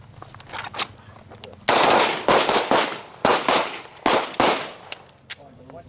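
Handgun shots crack out in rapid volleys during a combatives shooting drill, several loud close bursts of overlapping fire from multiple shooters with faint voices between.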